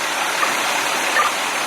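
A fire hose at an old bar fire lets out a steady, loud rushing gush of water that holds constant throughout, with no voices over it.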